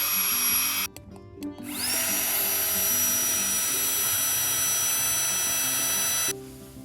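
A tiny battery-powered portable electric pump inflates a camping sleeping pad, starting with sputters then settling into a loud, steady high whine that runs continuously before cutting off, close up with no voices.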